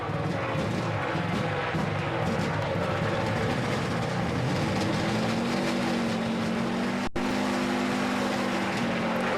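A NASCAR race car engine fires up on pit road at the Sam's Town 300 after the starter cranks, a loud, rough, continuous rumble amid surrounding pit noise that climbs in pitch as the engine catches and keeps idling.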